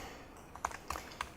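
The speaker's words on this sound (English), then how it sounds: "all that typing you were hearing was this" Computer keyboard: a few scattered key presses, about four sharp clicks a fraction of a second apart, close but soft against a quiet room, with no speech.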